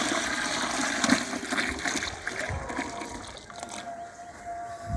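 Muddy water mixed with cow urine poured into a container, a close steady gush and splash that thins to a trickle toward the end.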